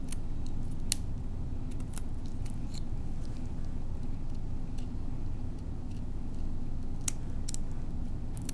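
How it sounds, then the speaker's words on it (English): Small scissors snip through a crayfish during a dissection, giving faint, irregular crisp clicks over a steady low background hum, with no talking. "So we can keep on cutting."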